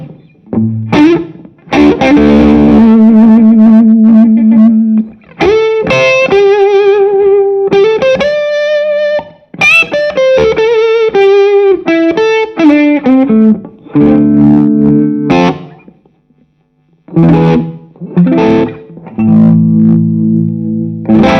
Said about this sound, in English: Okay, now we've got the Magma 57.